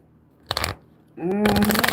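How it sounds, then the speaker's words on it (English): Tarot cards are shuffled by hand in two bursts, a short riffle followed after a pause by a longer, louder flurry of rustling and slapping, with a voice briefly audible between them. "I'm going to keep shuffling."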